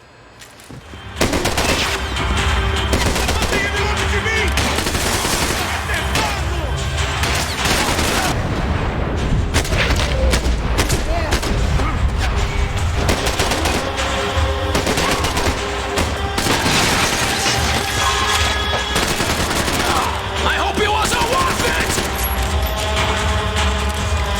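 Loud, sustained gunfire in the Max Payne 3 video game, heavy continuous volleys of shots and impacts that fill the whole stretch at close range with no pause.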